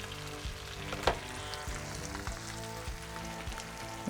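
Steak searing in butter in a hot pan gives a steady, close sizzle and crackle, with scattered pops and one sharper spatter, and no voices over it.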